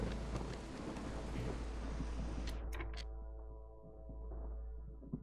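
Stormy weather in the city-building game Against the Storm: steady rain hiss and low rumbling wind fill the scene, with a few brief bright crackles partway through, continuous and fairly loud throughout.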